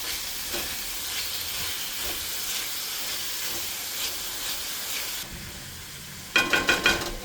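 Taco dip cooks in a covered pan with a soft, steady sizzle and hiss, then a few close, sharp clinks near the end.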